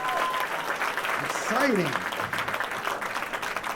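An audience in a small venue claps and cheers for the show's hosts, a steady wash of applause with a whoop rising midway and a host's voice talking over it.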